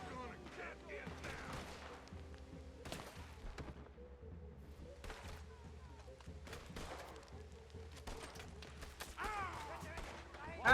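Gunfire in the Red Dead Redemption 2 video game crackles in scattered bursts of shots throughout, mixed with thuds and game ambience while a player talks over it.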